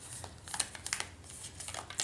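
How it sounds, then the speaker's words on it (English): Tarot cards are shuffled close by, a quick run of soft papery riffles and flicks that patter irregularly for a couple of seconds, faint and alone. "We're just shuffling again."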